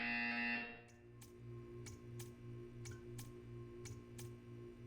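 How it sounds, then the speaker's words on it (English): In a Portal 2 test chamber, a loud electronic buzzer blares for about half a second, followed by a steady pulsing machine hum and regular sharp ticks, all without voices. "You will hear a buzzer."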